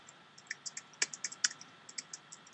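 Quick, uneven keystrokes tap on a computer keyboard as an email address is typed, with clicks close and fairly quiet against a silent background.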